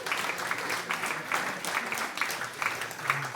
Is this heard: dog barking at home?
no